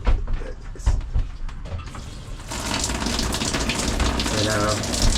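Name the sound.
shower water running in a Rockwood Minilite 2109 trailer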